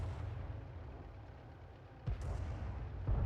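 A Grille artillery gun in World of Tanks fires a single deep, booming shot that stands out sharply from a low rumbling battle backdrop, followed about a second later by a second heavy thud.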